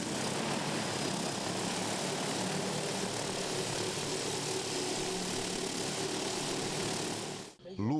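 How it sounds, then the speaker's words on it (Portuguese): An agricultural spraying drone applying crop protection products over coffee and grain fields in Três Pontas, southern Minas Gerais, makes a loud, steady rotor drone that holds for about seven seconds and then cuts off abruptly. "O drone é usado para aplicação de defensivos agrícolas"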